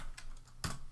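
Computer keyboard typing, a few soft keystrokes followed by one sharper, louder key press, close up in a quiet room with no speech.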